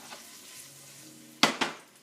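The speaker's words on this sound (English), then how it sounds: "You're going to saute that in that oil a little bit" Onion sautés in oil with a soft steady sizzle, then two sharp scraping stirs of a utensil against the pan ring out close and loud.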